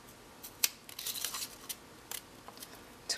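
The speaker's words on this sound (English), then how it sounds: "just cut on the edge of your circle" Scissors snip through a stack of layered paper circles around the edge, a quick series of sharp, crisp cuts and light paper rustles at close range.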